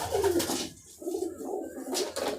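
Pigeons coo in a loft where blue pigeon chicks are kept, a soft rhythmic run of low throaty calls repeating across the whole stretch, fairly close and steady.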